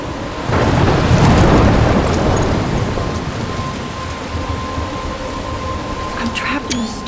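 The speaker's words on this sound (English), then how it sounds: "I'm trapped in a storm?" A heavy thunderstorm in the game Life is Strange: a loud rumbling roll of thunder over steady pouring rain, easing into a continuous rain wash with a faint tone running beneath.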